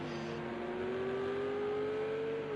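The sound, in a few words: Ferrari GT3 car engine revving, from a racing video game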